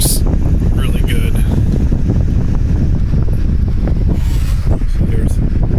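Steady broadband rush of an oscillating 3-speed fan blowing straight into the microphone indoors, loud and continuous throughout with no speech.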